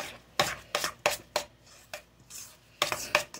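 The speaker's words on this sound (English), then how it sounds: "we're going to take our spoon and we're just going to kind of mix it all together" A spoon mixing twice-baked garlic potato filling with cheese in a bowl: about ten soft scraping and knocking strokes in an uneven rhythm, close and fairly quiet, with no voices.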